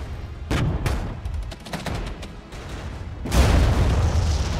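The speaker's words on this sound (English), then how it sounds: "Very effective use of our final Tochka strike here." A Tochka missile strike lands on tanks in the war strategy game Regiments, bringing loud booms and a crackle of rapid blasts, then a heavy rumbling impact that rolls on and lingers.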